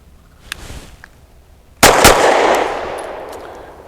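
Taurus TS9 pistol fired, two sharp gunshots in quick succession, loud and close, followed by a long decaying echo, with faint handling clicks beforehand.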